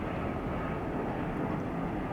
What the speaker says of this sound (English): I'm going to ignore the planes